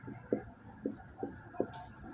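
Pen writing a math solution by hand on paper, with a few distinct quiet strokes at an uneven pace and no voice over them.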